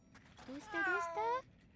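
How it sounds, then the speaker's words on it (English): A cat meowing in the video game Atelier Yumia, a couple of short rising mews merging into a longer drawn-out meow, moderately close over faint background noise. "Oh, there's a kitty."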